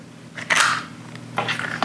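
A Mamiya medium format camera's waist-level viewfinder is flipped open, giving a quick close mechanical snap followed by a second softer click-and-rustle of the hood unfolding.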